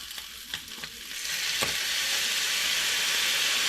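Soy sauce hits a hot frying pan for kaldereta with potatoes, bursting into a loud, steady sizzle that swells after a few quieter crackles and then holds without pause.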